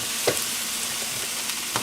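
Mushrooms sautéing in a pan with a splash of broth, a dense continuous sizzle with a few soft stirring taps, close and steady with no voices.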